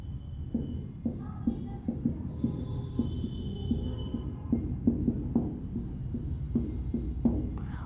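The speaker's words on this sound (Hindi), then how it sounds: "अब ये मिटा देते हैं।" Steady rhythmic scrubbing as writing is wiped off a classroom board, a run of repeated rubbing strokes lasting several seconds, close and moderately loud, with no speech.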